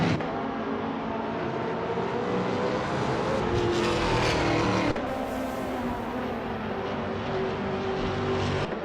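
Race car engines roar continuously in a racing video game, an Alfa Romeo 156 among the field, loud and sustained with a rising pitch sweep and a brief gap near the middle as cars pass.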